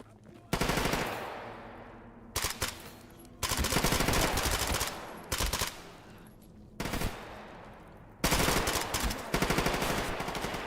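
Bursts of automatic gunfire from the video game STALKER GAMMA, several long loud volleys with brief pauses between them.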